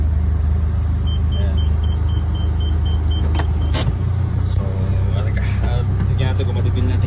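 A 2013 Nissan Almera automatic with a muffler cruises on a test drive, heard from inside as a steady low engine and road rumble with a brief faint whine and a couple of sharp clicks partway through, no speech.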